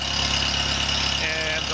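An antique Kohler generator engine runs loud and close with a rapid, even chugging pulse and mechanical clatter, steady for the whole brief stretch.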